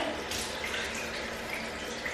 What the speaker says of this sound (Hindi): इसको धोना आपको बहुत अच्छी तरह से धोना पड़ता है